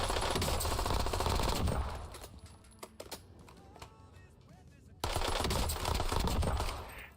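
In the Warzone video game, a test gun fires long, rapid automatic bursts, loud and close, with a quieter stretch of scattered shots and clicks in between before another sustained volley.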